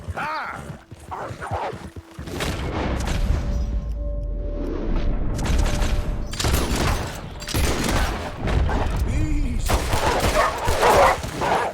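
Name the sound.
pistol gunfire in the video game Red Dead Redemption 2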